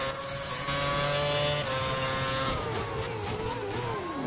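Formula 1 cars race around the Montreal circuit in an F1 video game, high-pitched engines revving and shifting continuously, with several cars overlapping as pitches climb and fall.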